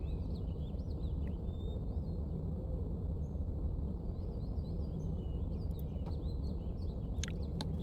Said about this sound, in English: Bird.